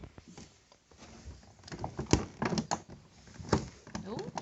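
A small cardboard door on a crochet-themed advent calendar being torn open, several close, quiet ripping and tapping sounds mixed with people talking nearby.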